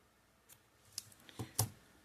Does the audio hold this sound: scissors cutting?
yes